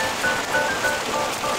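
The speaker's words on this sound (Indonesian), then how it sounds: "Walaupun situasi hujan semakin deras" Heavy rain pours down steadily over a fishing pond, a dense, continuous hiss of drops hitting water and surfaces nearby, with no pauses.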